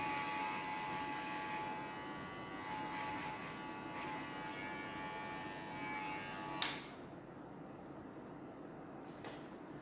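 Electric hair clippers shape a woman's double-cut haircut into a concave form, a close steady buzzing drone that stops abruptly with a soft click near the end, followed by quiet room tone.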